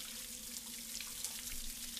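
Steady stream of running water in the horror adventure game Scratches, flowing and washing something away with a constant hiss and a low hum underneath, no voices.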